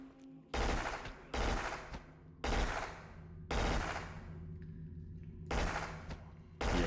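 Loud shotgun blasts from the video game Black, six heavy discharges at roughly one-second intervals, each a sharp burst with a short booming tail over a low background hum.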